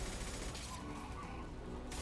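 Sustained automatic gunfire during a firefight in the video game Mass Effect 2, a dense, continuous rattle of shots with booms, fairly loud throughout with no pause.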